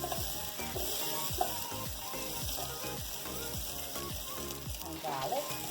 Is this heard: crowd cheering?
no